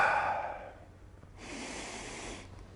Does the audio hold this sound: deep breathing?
yes